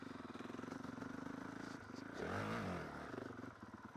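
A motocross bike leans through a corner while the rider rolls on the gas, its engine pulsing in a rapid throb, then rising in a short revving surge before settling back. Heard close and loud, with no talking.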